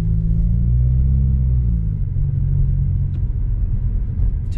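A 2016 Subaru WRX with a Remark axle-back exhaust cruising slowly: a loud, steady low engine rumble and exhaust drone that holds evenly throughout, with no voices.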